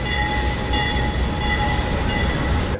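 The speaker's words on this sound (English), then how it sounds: "There goes another train." Freight train rolling past in Mexico, a loud, steady, close rumble of wheels and cars with high squealing tones running throughout and no talk.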